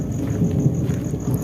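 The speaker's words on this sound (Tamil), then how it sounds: "மழை வந்துருச்சு, ஓவராக பெஞ்சிக்கிட்டு இருக்கு" Heavy rain pours down steadily in a dense, close wash, with a low rumble of thunder rolling beneath it throughout the short stretch.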